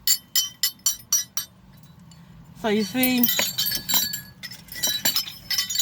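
Small glass pieces on a Walmart flamingo wind chime clink in a quick burst of bright, separate taps, then someone talks briefly before more light clinks ring out over his voice.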